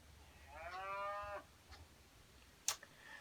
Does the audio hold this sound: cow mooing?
yes